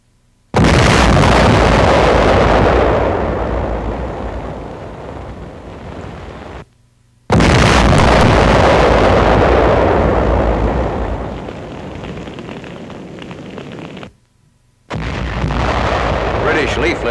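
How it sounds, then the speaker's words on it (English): Fougasse flame defense, an inland flame barrier used by British and American armies, erupting in loud roaring blasts, three long sustained bursts with brief silent gaps between them. "Inland flame defense, which the British call Fougas."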